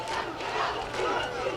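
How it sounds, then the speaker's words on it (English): A stadium crowd at a college football game, Benedict against Fort Valley State, roars in a sustained, dense wash of cheering and shouting that holds steady throughout. "Third down, the crowd getting into it."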